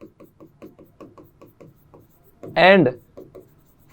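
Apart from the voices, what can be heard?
writing on a board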